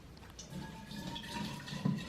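Freshly boiled water is poured into a chimarrão gourd, making a short, faint, gurgling trickle that builds slightly toward the end.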